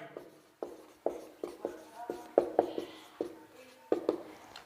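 A pen writing on paper during a handwritten maths lesson, making a rhythmic series of close, scratchy strokes and taps with short pauses between them.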